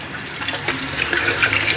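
Hot water runs from a tap in a villa bathroom with a steady, close rushing splash that grows slightly louder toward the end, with no talking.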